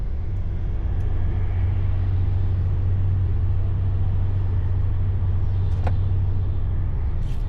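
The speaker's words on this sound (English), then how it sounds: "At least the traffic is moving slightly." A truck cab rolls slowly through stop-start traffic near a junction, with a steady, loud low engine rumble throughout and a couple of faint high clicks or squeaks near the end.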